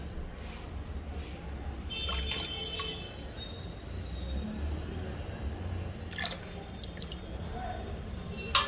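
Jaggery is stirred into water to dissolve, giving soft wet sloshing and occasional drips and clinks, fairly quiet and close, ending with a sharper knock.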